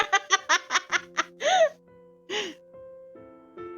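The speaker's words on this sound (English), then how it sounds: "I heard girls gasping from all over the cafe." Girls in a cafe from the PC game Nameless: a quick run of short, breathy gasps and giggles in a rhythmic burst, then two longer drawn-out gasping sighs, close and clear against near silence.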